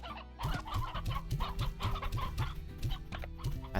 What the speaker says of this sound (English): Right, we now have more chicken.